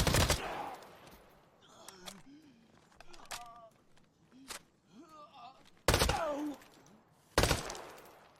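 T85 gunfire in a video game comes in loud, sharp bursts at irregular intervals, several rapid volleys with short quiet gaps between, while people talk over the quieter stretches.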